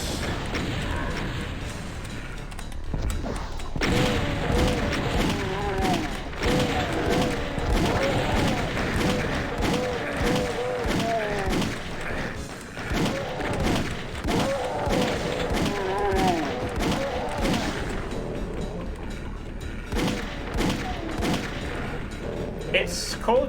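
Rapid bursts of Alpha Rifle fire from Doom 1 crackle through a busy game mix, repeated shots and thuds stacking into dense volleys with brief lulls, loud and close for over twenty seconds.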